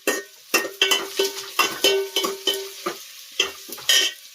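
Onions being fried in a pan for khasi mutton curry, heard as a steady close sizzle broken by repeated scraping stirs that come in short bursts of roughly one every half second, with no talking.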